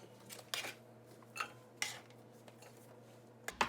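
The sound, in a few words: pork fat chunks transferred into a Dutch oven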